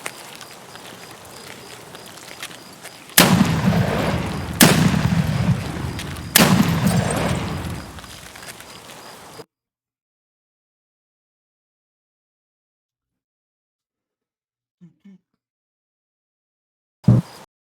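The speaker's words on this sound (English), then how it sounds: "I'm shooting out the lights" Three loud gunshots ring out in an online survival shooter game, each followed by a decaying echo, then near silence with a couple of faint clicks and a final sharp shot at the end.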